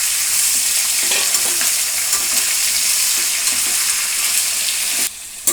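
Brinjal pieces fry in a pan for wedding-style vangi bath gojju, with a loud, steady sizzle and soft scraping stirs scattered throughout, then the sound drops sharply near the end.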